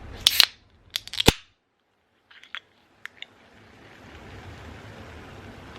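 A can of Diet Coke snapping open with sharp metallic cracks and clicks near the start, followed by a faint, steady fizzing hiss that builds softly toward the end.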